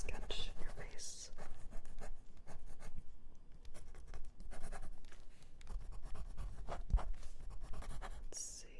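Pencil sketching on paper, scratchy strokes in quick bursts and short scribbles, close and intimate, with whispering voice and breaths woven through.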